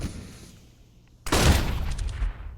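Gunfire in a Counter-Strike: Global Offensive match: quiet background, then a sudden loud burst of shots that trails into sharp echoing reports and crackle, fairly close and alone.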